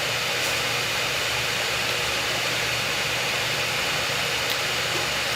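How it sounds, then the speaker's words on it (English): Airbus A320neo engine spooling up during start in Microsoft Flight Simulator 2024: a steady, loud, hissing turbine whine and rumble with no talking. "Engine number 2 coming up."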